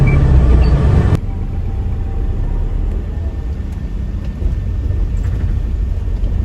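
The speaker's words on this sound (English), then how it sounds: "Okay, so this is the taxi." A taxi ride on Koh Samui, with a steady loud engine and road rumble heard from inside the moving car, constant throughout and without talk.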